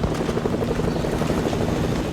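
A video game helicopter gives a steady, loud rotor whir with a low rumble that holds without a break throughout.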